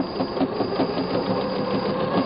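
Sewing machine quilting free-motion designs with the needle, running fast in a steady, continuous mechanical whir with rapid rhythmic stitching, close and alone.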